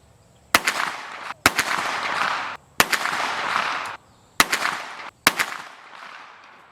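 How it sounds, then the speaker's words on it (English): A Stribog SP9A3 9mm carbine fires five rounds of 124-grain Gold Dot at a 25-yard range, each shot a sharp loud crack with a ringing tail, spaced irregularly about a second apart. "Shot a 5-round group on 124 grain gold dot."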